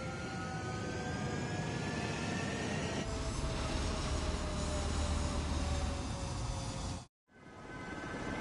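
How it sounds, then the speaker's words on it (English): Fighter jets taking off from a runway in the video game Ace Combat 7, a loud continuous roar with rising engine whines that builds and then cuts out abruptly near the end, with no talking. "Column Squadron, take off."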